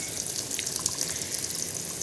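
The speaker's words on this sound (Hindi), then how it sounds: "अब चला दिया मैंने मशीन में ही पानी" Tap water runs steadily into a washing machine drum during a home laundry round, a continuous even hiss of flowing water at moderate level with no voices.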